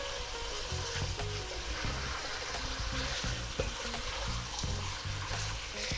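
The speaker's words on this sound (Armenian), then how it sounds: "շատ թեթև 1 րոպեի չափով ոչ ավել կտապակենք միասին" Chicken and okra fry briefly in a pan for a soup, giving a steady, dense sizzle with faint stirring clatter throughout.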